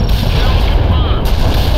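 Loud artillery and gunfire from the video game World in Conflict rumble on without a break, dense and close, with a voice partly buried under the barrage.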